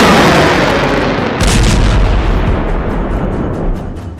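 Anti-tank missile fire at the Israel-Lebanon border: a loud, close blast hits hard, then a rough, rumbling roar carries on and slowly fades.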